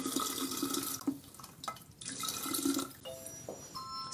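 Water poured straight into a kitchen machine's jug through the lid opening, a steady close splashing stream with brief pauses between pours and no talk.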